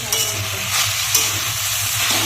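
Food stirred and frying in a pan with mustard paste, turmeric and chili, cooked at home: a steady, close sizzle with repeated scraping strokes of a spoon, and no talking.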